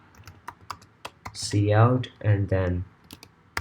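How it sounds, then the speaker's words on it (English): Keyboard typing for C++ code: a run of quick, light key clicks that continues under a voice explaining what he enters. "We're going to be typing"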